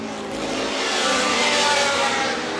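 A historic racing car engine at the Glover Trophy race, Goodwood Revival 2016, with a slightly rough, broken-sounding note, rising as it approaches and passes fairly close, then fading a little, steady and loud throughout.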